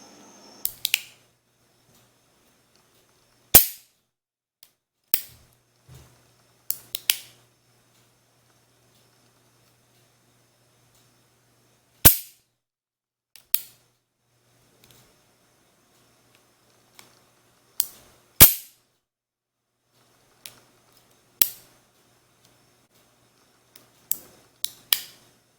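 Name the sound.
single-action cocking and trigger of a Rossi .357 Magnum revolver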